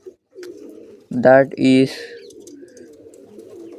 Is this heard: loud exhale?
no